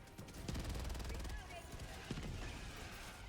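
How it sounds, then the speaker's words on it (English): Gunfire in a video game rattles in rapid bursts, repeated automatic shots aimed at a SCAF turret, crackling over constant game noise while a voice talks over the shooting. "Can we stop shooting the SCAF turret, please?"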